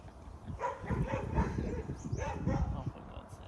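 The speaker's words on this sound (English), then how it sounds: "Puppy. And that's Padfoot." Puppy Padfoot gives small yips and soft whimpering barks, close by and fairly quiet, scattered through a few seconds of people talking over it.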